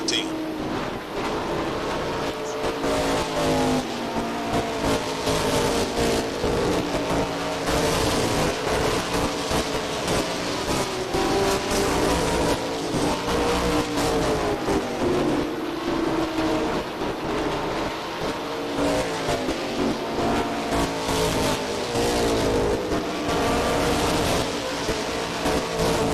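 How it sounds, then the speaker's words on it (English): ACT race cars roar around an oval track in traffic at a 1990 New England 300 race, a constant loud engine drone rising and falling as they lap, under steady announcer commentary. "Heavy traffic now as he races up to the back of some lap cars."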